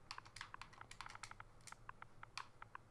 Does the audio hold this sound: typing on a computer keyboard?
yes